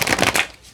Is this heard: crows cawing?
no